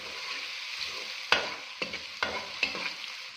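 Garlic ginger paste frying in a curry masala, a soft steady sizzle broken by a few sharp spoon scrapes and taps against the pan, close and with no voices.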